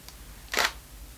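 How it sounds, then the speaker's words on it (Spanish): A camera shutter fires once with its flash set to pre-flash, a faint tick followed by one sharp, bright mechanical burst close by in a quiet room. "Voy a disparar la cámara."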